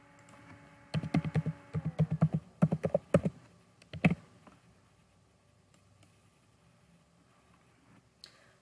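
Fingers typing login information on a computer keyboard, a quick burst of close, crisp key clicks for a few seconds, then quiet with a single faint tap near the end.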